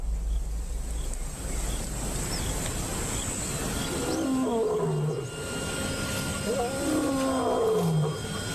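A male lion from a pride roars in the wild at dusk, a series of deep, throaty calls arriving partway through over steady wind and low rumble, sounding somewhat distant.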